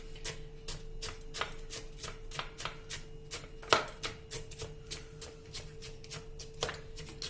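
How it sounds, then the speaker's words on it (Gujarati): Crushed mineral ice for a homemade ice gola is pressed by hand into a mould without a machine, making a steady series of quiet crunchy taps, with one louder crack midway. "પાછું આપણે એની ઉપર આ રીતે આઈસ નાખી દેશું અને એને પાછું આપણે આ રીતે પ્રેસ કરી દેવાનું."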